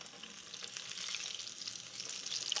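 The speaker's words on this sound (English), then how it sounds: "that this chicken can cook all the way to the bone in the oil" Chicken frying in hot oil, a dense, close, steady hiss of bubbling with faint crackles throughout, no voices.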